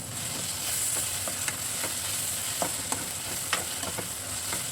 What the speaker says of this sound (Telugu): ఆనియన్స్ అనేవి దోరగా వేగుతాయి.